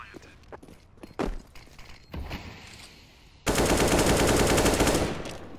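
A wild automatic rifle spray in a Counter-Strike match rips out as a loud, dense burst over the last two seconds, following scattered single shots and footsteps, with a caster's voice talking over it.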